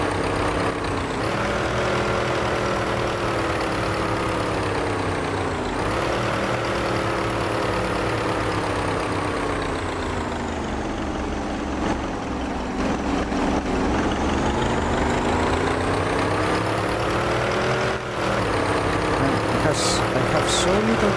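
A 1931-era Grand Prix race car engine in Assetto Corsa howls around the Montlhéry banking, loud and continuous, its pitch sweeping up and down with throttle changes and gear shifts.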